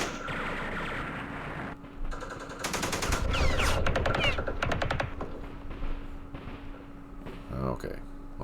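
Bursts of machine gun fire from the wargame Campaign Series Vietnam, set at Dien Bien Phu, crackle in rapid staccato volleys, loud and close, with someone talking over parts of the shooting.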